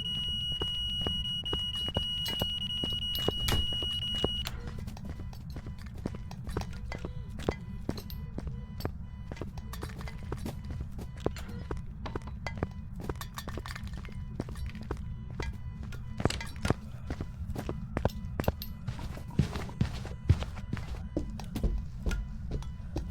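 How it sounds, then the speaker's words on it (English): Footsteps of the ghost in the horror game Phasmophobia: a long run of irregular thuds and knocks over a low droning hum, with a short high electronic beep near the start, moderately loud and without talk. "we were hearing footsteps over here"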